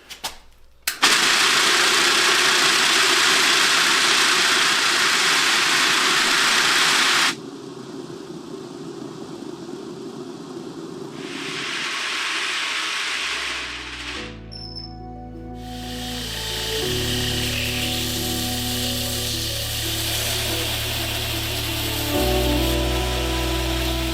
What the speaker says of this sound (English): This is just a rock tumbler, but this thing is crazy loud.